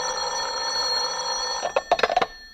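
A telephone rings indoors late at night, around eleven o'clock: a steady tonal hum gives way to a cluster of sharp, rapid bell-like bursts near the end.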